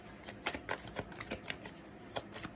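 Tarot cards are shuffled and drawn by hand in a quiet room, making a close, soft series of irregular flicks and riffling snaps with no talk.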